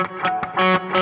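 Half-pressed electric guitar note at the 4th fret of the D string, played with a distorted tone, picked several times in quick succession, loud and close, with no talking.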